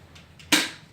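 A single sharp pellet gun shot cracks out midway, loud and close, after a quiet stretch with faint rustles, then fades quickly.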